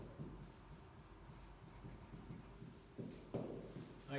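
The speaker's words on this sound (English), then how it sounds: "I'm going to write that down." A pen scratches steadily across paper while writing down a maths answer, close and faint, with a few louder taps and strokes toward the end.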